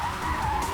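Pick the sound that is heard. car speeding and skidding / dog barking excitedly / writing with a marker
car speeding and skidding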